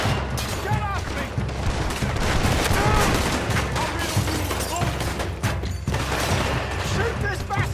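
Rapid gunfire rattles through a Red Dead Redemption 2 shootout: dense overlapping shots and bursts, loud and close, with game voices shouting between them.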